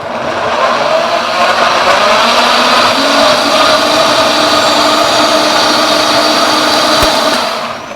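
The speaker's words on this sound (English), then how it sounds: "and then we're gonna just blend this" Blender whirring steadily on a batch of gazpacho made with lactose-free milk, a loud, continuous motor drone lasting the whole stretch before easing off at the end.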